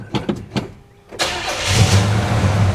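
A 1974 Chevy El Camino engine cranks in a few loud rhythmic bursts, pauses briefly, then catches and fires into a rough, loud idle up close.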